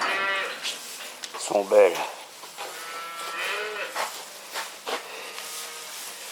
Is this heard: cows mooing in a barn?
yes